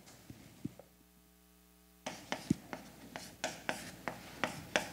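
A pen or pencil writes math by hand in a row of short, sharp strokes and taps that are close and fairly quiet, with a low steady hum beneath. The first two seconds hold a fainter tonal drone before the writing picks up.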